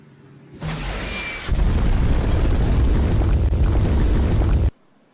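A firework goes off as a loud, sustained roaring burst of explosive noise that runs for several seconds, then cuts off abruptly into near silence.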